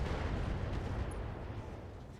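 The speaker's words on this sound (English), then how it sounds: "Firing a full salvo." A full weapons salvo fires in the RogueTech mod of the BattleTech video game, a dense rumbling barrage of blasts and booms that stays loud throughout and eases slightly toward the end.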